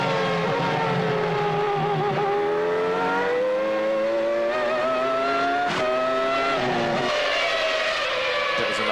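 Onboard Formula One engine of Michael Schumacher's car at the 1998 Hungarian Grand Prix, a loud high-pitched whine rising and falling through rapid gear changes and braking, continuous and close, with no voices.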